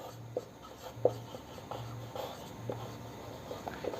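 Marker or chalk writing on a board during a Class 11 two-dimensional coordinate geometry lesson, soft scratchy strokes repeating in a steady rhythm, faint and close against a quiet room.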